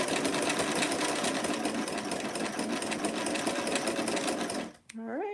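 A sewing machine hums with a rapid, continuous clatter while stitching a curved princess seam on a dress, then cuts off, and a voice speaks briefly afterward.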